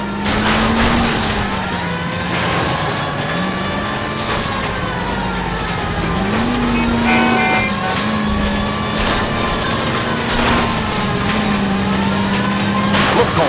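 Car chase in the L.A. Noire video game: a continuous engine roar with wavering, siren-like tones rising and falling over a dense, loud rush of road noise.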